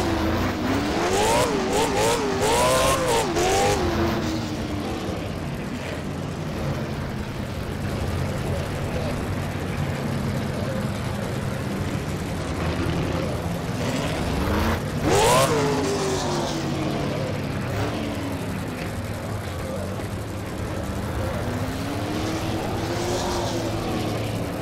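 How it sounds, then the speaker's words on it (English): A late model race car doing a post-race burnout at Jefferson Speedway, with an engine revving hard and wavering in pitch, then a steady rumble and another rev surge, under continuous talk. "He does his burnout."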